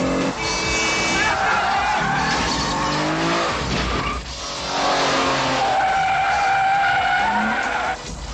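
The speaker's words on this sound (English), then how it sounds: "there are chase scenes as the team of mercenaries races after the mystery case here on the streets of Old Nice" Cars skidding through a film chase on the streets of Old Nice, long loud tire squeals sweeping up and down over engine roar, with brief radio-style voices talking beneath.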